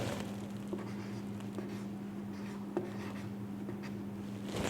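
A pen scratches out a Chinese character stroke on paper, a soft continuous rubbing scrape with a few faint taps, quiet and close over a steady low hum.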